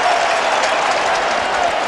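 Steady roar of a stadium crowd at a Miami Dolphins versus New England Patriots football game, a dense, loud wall of cheering and clapping that holds level throughout, with no distinct voices standing out.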